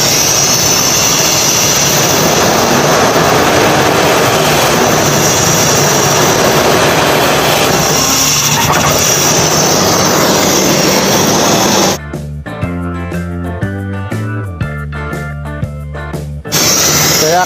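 A car engine converted to run on compressed natural gas roars loudly and steadily under test for about twelve seconds. Music then takes over.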